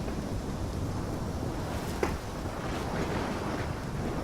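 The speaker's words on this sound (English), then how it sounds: "Erratic storm, purple electricity mixed with blue." A video game storm roars steadily with gusting wind and crashing waves, a dense continuous rumble with a brief crackle partway through.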